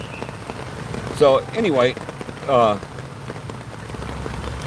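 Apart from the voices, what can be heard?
heavy rain falling on umbrella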